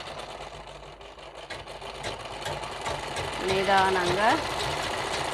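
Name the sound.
sewing machine stitching a saree fall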